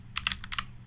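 Keys on a computer keyboard, including the slash key, are tapped in a quick series of about six soft, close clicks over a low background hum.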